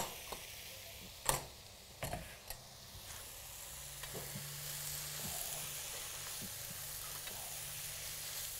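Tomatoes hit hot oil in a pan alongside baby carrots, a few loud clacks of a utensil at first, then a steady close sizzle with faint ticking stirs and no talk.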